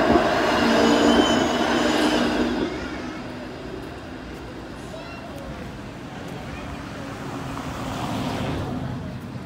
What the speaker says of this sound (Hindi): ये ट्राम आ रही है।